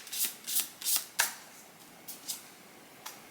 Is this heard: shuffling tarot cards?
yes